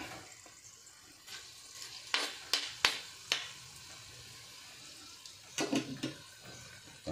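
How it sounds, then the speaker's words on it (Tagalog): Garlic and onion sautéing in a pan, a steady soft sizzle broken by a few sharp clinks and stirring scrapes, close and moderately loud with no talking. "Mag-gisa na ko ng bawang saka sibuyas"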